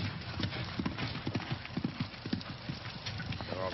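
Racehorse Gargaron at a training gallop under his jockey: rapid, rhythmic hoofbeats drum steadily on the ground at close range over a constant low background noise.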